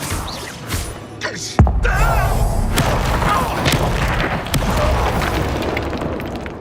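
Spell blasts from the Confringo and Bombarda spells in the Hogwarts Legacy video game: a sharp, loud boom followed by rumbling crashes and debris, mixed with game sounds and a spoken voice.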